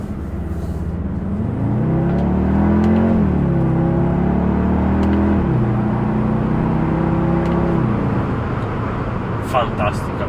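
Audi SQ2 with a 2.0 TFSI engine, S-Tronic gearbox and quattro drive accelerates from inside the cabin, engine pitch rising and stepping through gearshifts, with someone talking over the steady engine drone.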